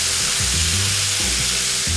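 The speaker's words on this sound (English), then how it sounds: "Take a little bit of white wine and deglaze this pan with it." White wine poured into a hot pan of quickly sautéed sliced garlic, giving a loud, steady sizzle and hiss of deglazing that runs without a break, with no voices.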